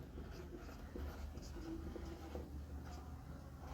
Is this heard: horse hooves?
no